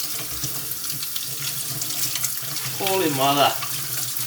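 Cold tap water runs steadily into a kitchen sink while tomatoes are rinsed and squished by hand for homemade passata, a continuous broadband splash with a short exclamation spoken over it.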